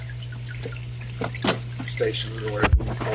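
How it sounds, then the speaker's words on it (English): Water drips and trickles over plastic bio balls inside a filter's drawer stack, a soft patter and splash running beneath a steady hum while someone talks over it. "the water drips over them"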